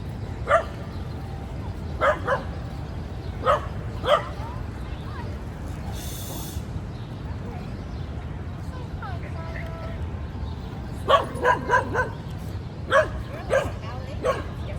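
A pet dog barks and yips on a Philadelphia street, sharp barks coming in scattered clusters over steady traffic and street rumble, with people talking nearby.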